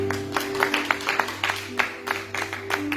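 A church congregation applauding, steady rapid clapping from many hands filling the room, with an organ-like sustained tone held beneath.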